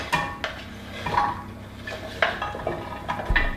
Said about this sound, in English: I'm just going to put all of that butternut squash straight into the roasting dish